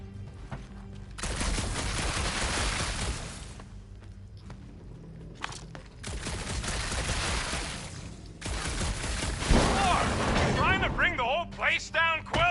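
Gunfire in the Guardians of the Galaxy video game aboard a creepy old ship, with repeated loud bursts of shots and impacts separated by brief lulls, mixed with voices talking over the action.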